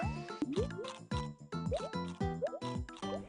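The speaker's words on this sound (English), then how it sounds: "You also find different Yoshis who can blow bubbles to catch" Yoshi blowing bubbles in a New Super Mario Bros. U game on Nintendo Wii U: bouncy, repeated bubbly pops and rising boings in a quick rhythm over cheerful game music, fairly loud.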